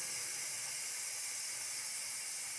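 An Instant Pot vents steam in a constant, bright hiss that holds steady and unbroken at a moderate level the whole time, with no voices.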